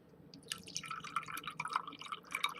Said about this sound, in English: And then we're going to add some water.